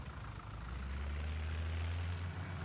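A tractor engine idling in Farming Simulator 17, a steady low rumbling drone that holds constant and close throughout.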